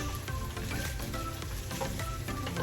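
Garlic sizzles and fries steadily in a hot pan with ground meat, a continuous close crackle with faint stirring throughout and no talking.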